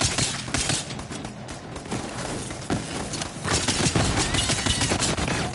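Rapid gunfire from a weapon in the video game Borderlands, a busy run of overlapping shots and impacts that rises and falls over several seconds, with no talk.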